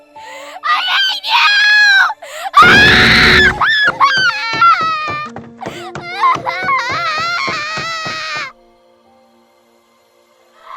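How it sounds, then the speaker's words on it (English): A woman screams and sobs at close range, loud and raw, in a string of rising wails and broken cries that trail off into silence. "The echoes of her screams and cries could be heard."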